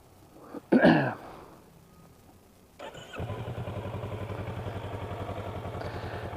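A Kawasaki Versys 650 LT motorcycle cranks with a brief clatter, then its engine catches and settles into a steady, close idle that keeps running to the end.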